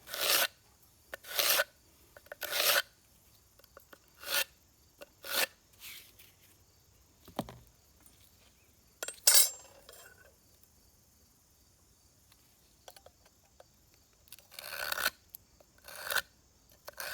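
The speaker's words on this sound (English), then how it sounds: "and cut the stones to fit." Stone is cut by hand to fit the corners of a stone arch in a milk house renovation, heard as bursts of harsh rasping and grinding strokes separated by quiet pauses.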